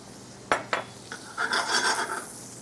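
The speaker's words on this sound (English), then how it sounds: "Just going to add in my squid tentacles." Squid tentacles drop into a hot pan already used for searing scallops, giving two sharp clatters, a small knock, then a rising crackling sizzle that carries on close by.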